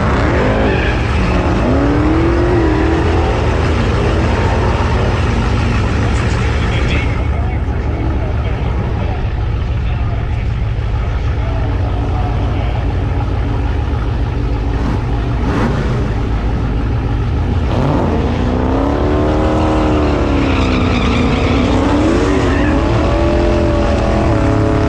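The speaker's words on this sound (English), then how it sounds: "you want to do a first gear burnout in like 3 feet" Loud, continuous engine roar and tire noise from a 1000-horsepower Jeep Trackhawk doing a first-gear burnout at a drag strip, rising and falling pitch sweeps of revving throughout, with a voice talking over it.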